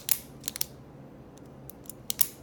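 A Pilot G2 stylus gel pen clicking as its clip is pushed in and out, giving small, close, sharp plastic clicks in pairs and triplets with quiet gaps between them.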